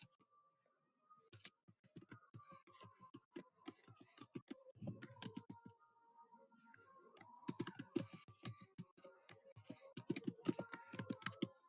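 Someone typing on a computer keyboard, rapid irregular keystrokes in bursts with short pauses, close and crisp, continuing for several seconds with faint background hum.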